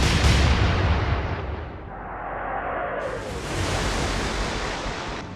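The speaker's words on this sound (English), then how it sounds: "The Berwick turned slightly to starboard, and returned fire with their main guns" The main guns of the British cruiser Berwick fire in a 1939 Atlantic sea battle, a loud, deep booming blast rolling into a long rumbling roar with broad noisy wash, unaccompanied by voices.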